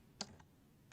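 Two soft, close keyboard clicks sound a fraction apart, followed by a single further tap after a brief pause, all faint against a quiet background while a chat command is typed.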